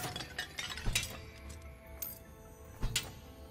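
Clay pots smash in the Dark and Darker goblin caves, giving several sharp ceramic cracks and clinks spread across the moment, fairly faint and close, with scattered debris ticks between the breaks.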